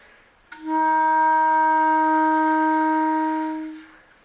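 A single clarinet F note held steadily for about three seconds, clear and close, with a sharp attack that fades out at the end.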